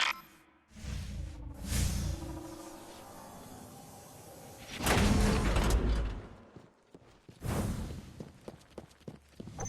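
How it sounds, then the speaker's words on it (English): A door opening in the video game Destiny Rising, heard as several whooshing, scraping mechanical swells with a loud sliding rush midway, followed by sharp clicks and knocks, with no talking. "I think I might be able to get this door open."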